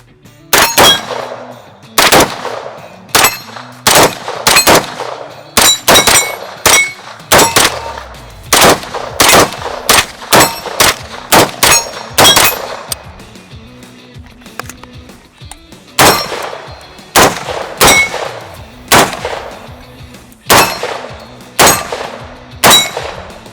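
Rapid shots from 9mm and .308 rifles ring off steel targets at an outdoor shooting range, each sharp crack followed by a bright metallic clang, fired in quick strings and irregular bursts, loud and close, with no talking.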